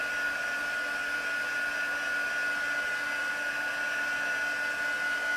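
A hair dryer blowing steadily while drying hair, giving a loud continuous whine with a constant pitch and no breaks, close by and with no voices.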